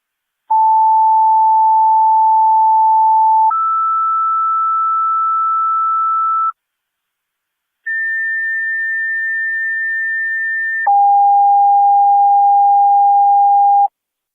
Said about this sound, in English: Fire Control to South Lockport, your second set of tones